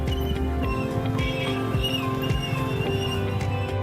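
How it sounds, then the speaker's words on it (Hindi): A horse ridden through crowded fair roads at the Kumbh Mela in Prayagraj, with quick hoofbeats under a dense, busy street din of traffic, voices and horns in the background. "सड़कों पर खड़क सिंह जैसे घोड़े को दौड़ाते ये हैं बाबा विजयपुरी।"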